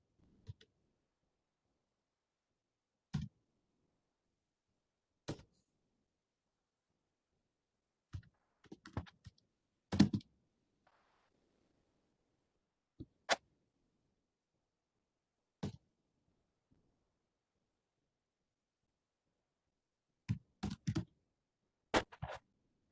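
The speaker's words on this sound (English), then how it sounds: "It's a bit hard to type this." Scattered keystrokes on a computer keyboard, sparse clicks and short bursts of typing separated by long quiet gaps, faint and close.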